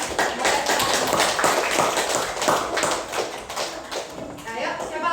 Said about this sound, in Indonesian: kita kasih aplaus dulu buat temannya